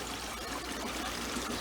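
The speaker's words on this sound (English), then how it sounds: "I'm still getting a little bit of splashing, but I'm not too worried about the little odd drip of water" Water pours and splashes steadily in a continuous, faint hiss with small drips, heard alone without voices.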